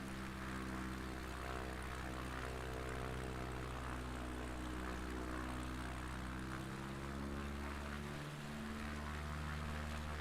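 A propeller plane drones steadily in a flight video game, its engine hum continuous and even, with a slight dip in pitch near the end, alone and without talk.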